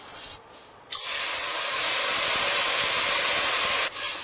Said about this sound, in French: on va jeter dessus notre vin blanc